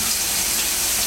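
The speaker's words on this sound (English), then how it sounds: "We're actually going to fill it up with water" Tap water gushes steadily from a faucet into a leather sheath being filled, a loud, continuous, close rushing splash with no pauses or voices.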